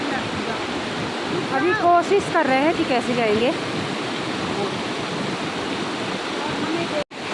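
A river rushing beneath a glacier in the Valley of Flowers, a steady broad roar of flowing water heard throughout while someone talks over it.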